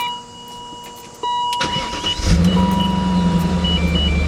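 A 2000 BMW M5 engine starts up and settles into a steady, close idle, a low rumble with faint mechanical ticking of Vanos noise on top.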